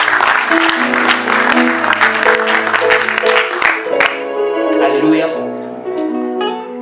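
A church congregation claps and cheers during a French-language sermon on fasting, a loud wash of applause blending with sung and spoken voices over sustained keyboard chords.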